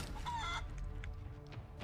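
A chicken clucks and squawks in the video game Divinity Original Sin 2 after a foe is polymorphed into one, sharp calls early, then a busy background of battle noise.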